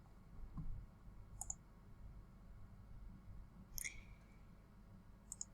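Computer mouse clicking while working in Adobe Illustrator, a few faint, sharp, isolated clicks spaced seconds apart over a quiet room hum.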